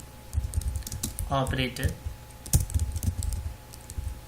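Typing C code on a computer keyboard, close irregular clicks and key taps scattered throughout, with someone talking briefly in the middle.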